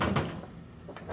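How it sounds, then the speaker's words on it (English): Door of a Sky Fire 2K WeldStar welder swinging open past a newly mounted bracket, giving a brief loud knock and rattle at the start, then a quieter shuffle and a soft bump near the end, with no talk. "now with the bracket mounted, you can actually open the door"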